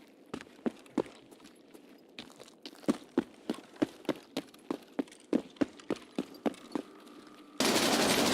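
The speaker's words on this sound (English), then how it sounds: "Sorry if the gun is really loud." Gunfire in the video game Escape From Tarkov: a rapid string of sharp, loud single shots fired in uneven bursts, about twenty reports, ending in a sudden burst of broadband noise.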